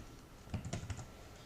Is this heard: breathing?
no